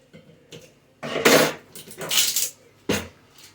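A bottle of cherry juice being worked open at a kitchen counter while baking cookies, with a few loud clattering knocks and scrapes of cap and glass in uneven bursts, close by and without talk.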